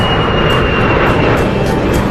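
A loud, steady roar from a jet aircraft engine, broadband and constant for the whole stretch, with a thin high whine running through it and no voices.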